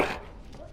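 A dog in Dragon Age: Origins, Human Noble origin, gives a single short, close bark that fades quickly.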